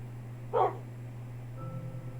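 A Minecraft dog gives a single short, clear bark over a steady low game hum, followed by faint background music.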